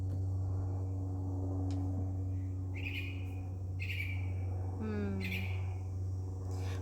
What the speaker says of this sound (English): I love these birds in the background.